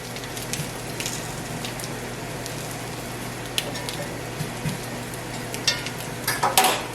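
Salmon patties frying in a pan give a steady, close sizzle with a soft crackle, joined near the end by a few sharper clinks and pops.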